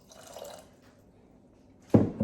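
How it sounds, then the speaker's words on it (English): Water splashes into a pot of cooking grits in a kitchen, a short burst of pouring late on after a faint, quiet trickle. "I might add just a tidbit more water in there."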